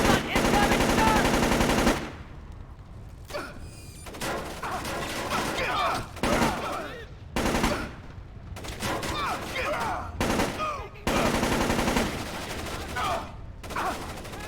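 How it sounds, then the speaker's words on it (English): Repeated bursts of automatic gunfire in Splinter Cell: Chaos Theory, a loud sustained volley at first, then several shorter rattling bursts separated by brief gaps, with voices talking in between. "Incoming shot!"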